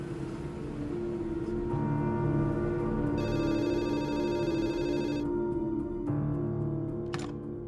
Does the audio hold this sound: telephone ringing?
yes